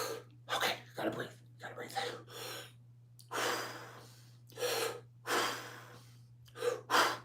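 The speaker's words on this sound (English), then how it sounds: "I just had to take some deep breaths" Several deep breaths, slow heavy inhales and exhales repeated in an uneven rhythm close to the microphone, with a steady low electrical hum underneath.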